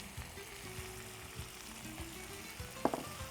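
Boiled, salted pasta sizzles gently as it is sautéed in a pan, a soft continuous frying hiss with a quick clink of a utensil near the end.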